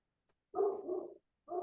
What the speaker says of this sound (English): Can you all hear my dog barking?